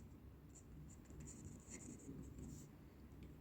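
A pen scratches quietly across paper in short strokes while math working is written out, faint and close over a steady low hiss.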